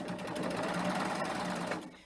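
Serger running a 3-thread rolled edge around a fabric corner, a dense, steady mechanical whir held for about two seconds before slowing and stopping.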